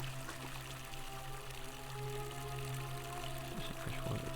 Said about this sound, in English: There's some fresh water, but where is it coming from?